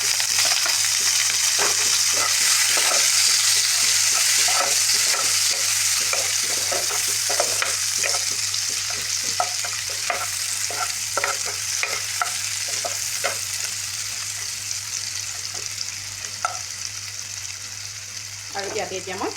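Onions fry in hot mustard oil for a tomato and dry fish dish, with a constant loud sizzle and repeated scraping stirs close by.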